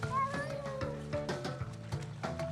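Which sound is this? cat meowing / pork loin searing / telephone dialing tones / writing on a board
cat meowing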